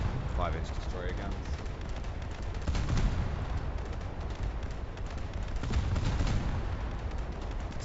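Secondary 5-inch naval guns, like destroyer guns, fire in a realistic US Navy versus Imperial Japanese Navy battle game, giving a dense, continuous barrage of booming gunfire with several heavier blasts standing out over a steady rumbling background.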